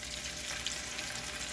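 Chicken drumsticks for smothered chicken sizzle in a pan on a stovetop turned down to medium, a close, steady crackling fry with no talking.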